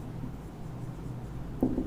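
Marker or chalk on a board during a physics lecture on friction, a soft continuous scratching that is faint and steady, with a slightly firmer stroke near the end and no talking.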